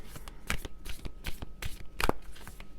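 Tarot cards are shuffled by hand during a reading, giving a series of crisp riffling snaps and soft slaps in an uneven rhythm, close and fairly quiet with no speech.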